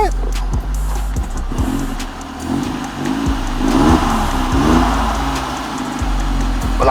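A 1997 Audi A4 revived after five years sitting in a garage revs with a noisy, rattling muffler, its engine rising and falling in several uneven blips over a steady idle, with people talking nearby.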